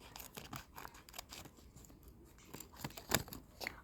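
Scissors snip through stickers in a quick series of small, close, crisp cuts with faint paper rustling between them, fairly quiet and with no talking.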